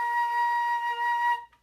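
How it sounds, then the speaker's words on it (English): Flute holding a high B flat, one steady bright note sustained for under a second and a half, then cut off cleanly, played solo and close without speech. "And then we have our high B flat."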